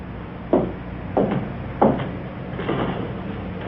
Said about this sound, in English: I want to hear that door lock behind me.